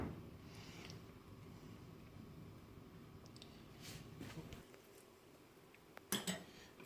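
A kitchen knife slices through the middle of a bread samosa, giving soft scraping and muffled cuts over a low background hum, with a sharper clink of metal near the end.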